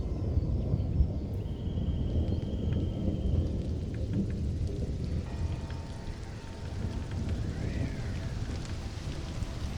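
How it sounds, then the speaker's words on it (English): A video-game thunderstorm: steady heavy rain hisses and low thunder rumbles throughout, with a few faint synthetic tones and chirps drifting above the downpour. "Thunderstorm."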